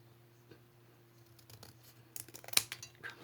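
Scissors snip through paper for a Christmas windmill craft, a quick cluster of crisp cuts near the end after a quiet stretch.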